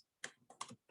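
Quick keystrokes on a computer keyboard, four or five crisp, close clicks in a brief, uneven burst against near silence.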